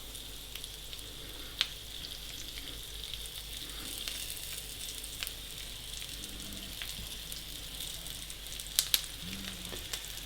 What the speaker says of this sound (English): we're going to just brown each side of the lamb chops